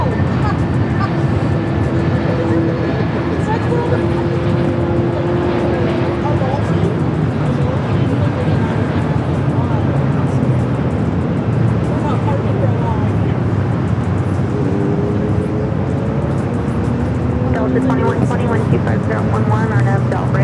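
Jet airliner on approach into LAX on a flight from Phoenix, a steady broadband roar running throughout, with voice chatter and radio talk over it.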